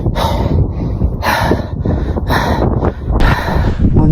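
Heavy, ragged panting from someone exhausted while trekking toward the Amazon's source, with rapid harsh breaths close to the microphone, steady and loud throughout.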